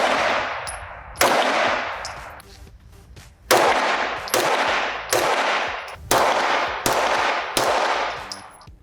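Tisas SDS PX-9 Gen3 9mm duty pistol fired outdoors, about eight loud, sharp shots at a steady, unhurried pace, each followed by a long ringing decay.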